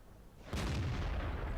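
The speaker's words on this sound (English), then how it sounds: "Now he's got this Type 59 in his sights, so he's going to have a pot shot at him." A single tank gun shot in World of Tanks, a sudden loud booming blast that keeps rumbling after the initial crack.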